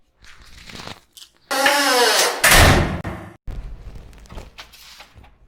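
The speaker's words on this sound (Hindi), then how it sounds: "दरवाजा अपने आप कैसे बंद हो गया?" A door swings shut by itself: a loud, close creaking sweep builds into a heavy thud, followed by quieter rattling knocks and settling.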